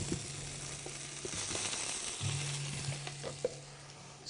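Potatoes sizzle steadily in a hot pan during a healthy cooking class, with a continuous close hiss, occasional louder crackles and a low hum running underneath.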